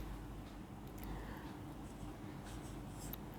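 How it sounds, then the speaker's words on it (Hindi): A woman writes on a board while teaching a lesson: faint, quiet scratchy strokes in short bursts against a low background hum. "तो गाइस देखिए मैं यहाँ पे लिख रही हूँ"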